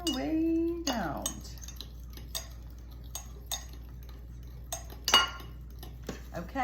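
A spoon scrapes and clinks against a pot while eggs are stirred and tempered for old-fashioned banana pudding, with intermittent metallic taps and scrapes at close range.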